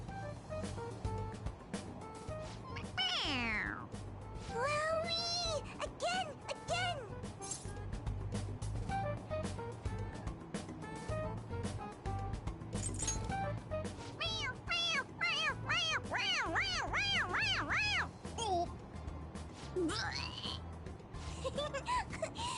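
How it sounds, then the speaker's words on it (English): A toy cat in the video game Persona 5 Royal meows each time its head is pressed, giving a series of squeaky electronic mews over a steady game background, with voices speaking between them. "It meows when you press on its head."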